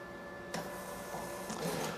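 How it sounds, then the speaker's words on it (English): A receipt printer attached to a Mitsubishi Kiosk PT 7000 EX self-service photo terminal prints an itemised bill, a faint mechanical whirr that starts abruptly and runs steadily with small bursts, heard alone. "the receipt printer has just printed me off an itemised bill of the services that I'm purchasing"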